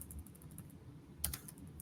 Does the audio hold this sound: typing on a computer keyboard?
yes